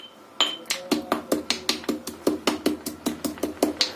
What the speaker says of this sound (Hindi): सौंफ डालेंगे और ये सारी चीजों को डाल देंगे और हल्का सा हम इसे क्रश कर लेंगे